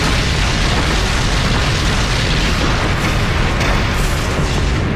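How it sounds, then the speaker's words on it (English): Nine tank main gun rounds striking at once during a Gulf War engagement, heard as a dense, sustained, very loud roar of blast noise filling the whole stretch without a break. "I say fire, 9 tank main gun rounds impact"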